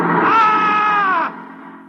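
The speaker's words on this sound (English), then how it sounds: "woke up screaming" A man screams as he wakes in an old radio drama, one loud, sustained cry lasting just over a second before it cuts off abruptly.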